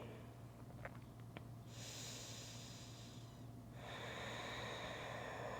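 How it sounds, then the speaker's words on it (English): Slow, steady breathing during a yoga balance flow, faint and close, with soft airy inhales and exhales in long waves and no talking. "Active and full breathing."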